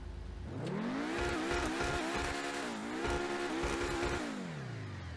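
Engine of a Pegassi Torero XO supercar in GTA Online revving up and shifting through gears, loud and close with a rising then falling whine and brief dips between shifts, no voices.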